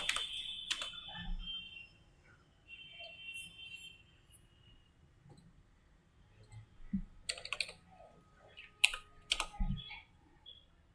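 Quick bursts of keystrokes on a computer keyboard as a shell command is typed, soft clicks in short clusters with pauses between, close and quiet with no speech.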